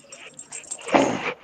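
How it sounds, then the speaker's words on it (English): A small puppy named Minnie whimpers and yips close by in a short, high-pitched burst that rises toward the end, with no talking over it. "And there's his puppy."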